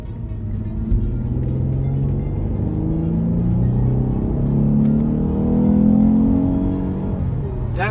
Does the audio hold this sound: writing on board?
no